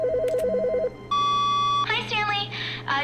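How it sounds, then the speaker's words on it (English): A telephone rings in The Stanley Parable, a warbling trilled tone at first, then a sustained electronic beep followed by chirping ring tones over a constant low hum. "I hear the phone again."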